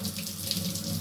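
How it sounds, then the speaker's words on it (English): Tap water running in a sink while fresh fish is rinsed, a steady close splashing hiss without pause. "Rinsing the fish real good."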